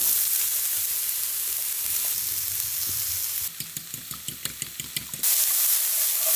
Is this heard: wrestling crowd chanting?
no